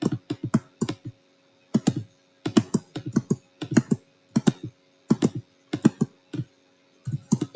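Computer keyboard keys tapped in quick clustered bursts of several clicks, close and crisp, repeating in an uneven rhythm across the stretch while coding a Tetris game in Scratch.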